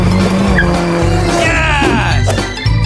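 A cool car skids around a racing circuit, its tires squealing loudly and close against steady engine noise, with a longer screech sweeping through the middle.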